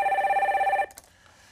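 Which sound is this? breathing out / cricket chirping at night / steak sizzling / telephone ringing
telephone ringing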